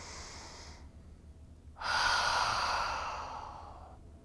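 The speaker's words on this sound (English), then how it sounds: "Now take a nice, big, deep, proud breath in." A deep breath drawn in during a posture and health exercise: a soft airy exhale first, a pause, then a long, loud inhalation that gradually fades, with no talking.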